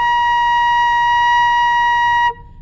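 A flute sounds a steady B flat an octave higher than intended, a bright sustained tone held clearly for over two seconds before cutting off.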